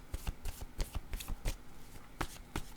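Tarot cards are shuffled and drawn in a quiet series of crisp riffles and soft slaps, irregular but continuous. They are close and alone, with no speech.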